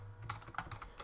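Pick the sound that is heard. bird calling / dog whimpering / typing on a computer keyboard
typing on a computer keyboard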